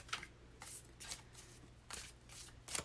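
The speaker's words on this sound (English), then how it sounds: "So these guys want to be shuffled, so we're going to do that" Tarot cards are shuffled in quick, crisp riffling bursts, about six short rustles spread over a few seconds, close and quiet with no talking.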